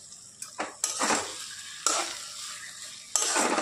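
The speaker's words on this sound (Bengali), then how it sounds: "আর আজকে দেখো এখানে রান্না হচ্ছে ডিমের ঝোল কষা কষা করে" Egg curry being reduced in a pan gives steady frying sizzle, broken by several scraping stir strokes and spoon clinks against the metal, close and fairly loud.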